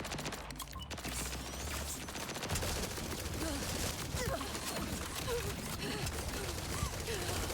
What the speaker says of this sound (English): what is up with this gun that doesn't shoot straight?